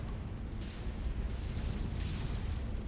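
A mech's reactor blowing up in MechWarrior 5, heard as a steady, heavy rumbling roar with crackling debris that holds loud for the whole stretch, with no voices.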